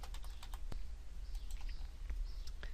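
Quick, light clicks of a computer keyboard as a file name is typed into a save dialog, a close, irregular run of keystrokes with no talking.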